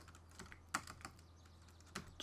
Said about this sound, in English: My keyboard's been working so well, and now it's acting flaky.